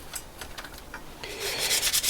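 Parts from a Kawasaki GTR 1000 motorcycle being rubbed down by hand, a series of short scratchy strokes that grow louder and denser toward the end, close up with no talking.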